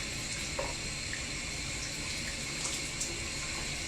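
Tap water runs steadily into a bathroom sink while skin is rinsed, a soft even hiss with no talking.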